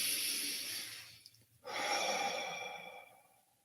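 A long, slow inhale through the nose during a guided breathing moment at a Sunday church service, close and soft, followed by a brief pause and a gentle exhale.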